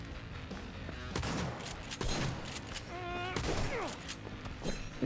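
Gunfire in Cyberpunk 2077, a quick series of sharp shots and bursts with ringing, pinging tones between them, fairly faint overall and cut with brief voices.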